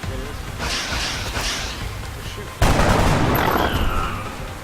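Gunfire in the tactical strategy game X-Com: Enemy Within: a burst of shots, then a sharp, loud blast with a rushing crackle that fades slowly, alongside game noise.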